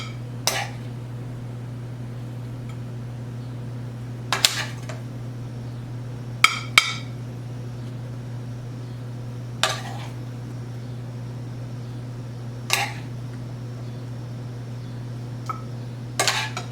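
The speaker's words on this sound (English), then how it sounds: "I'm going to put a couple spoons of this in each bowl" Spoons clinking against bowls as food is portioned out for breakfast prep, a handful of sharp isolated taps spread apart over a steady low hum, quiet and close.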